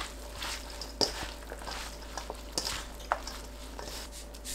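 A seasoned side dish is tossed with apple vinegar, making faint, scattered soft clicks and light scrapes of mixing against a bowl. No one speaks.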